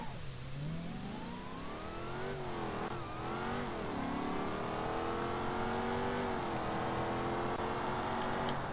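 A Bruckel Bastion in BeamNG.drive accelerates hard to 100, its engine revving up through several gear changes, each shift dropping the pitch briefly before it climbs again, loud and continuous for several seconds.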